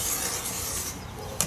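A blade drawn along a ruler across a fabric or paper block on the diagonal, a short close rasping scrape lasting about a second, ending with a brief sharp tick.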